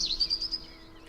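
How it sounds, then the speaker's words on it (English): A bird in Minecraft lets out a brief, high thin chirp that trills for about half a second and fades, faint and alone. "What are these birds?"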